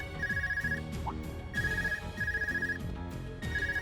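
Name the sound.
phone ringing in video game Trails of Cold Steel 2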